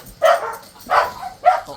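Three close, loud dog barks come at an even, quick rhythm, sharp and clear with short pauses between them, from a dog indoors.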